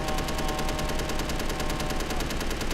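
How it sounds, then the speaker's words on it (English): Rapid automatic gunfire from a weapon in the space game Space Engineers, a dense, continuous stream of loud shots with an even, fast rhythm and no pauses. "now we have a gun. God, even with low volume, that is incredibly loud"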